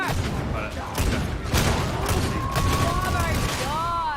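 Gunfire and booming impacts in the video game Darktide: bursts of shots and heavy thuds mixed with whining mechanical effects, loud and close, with a voice audible underneath.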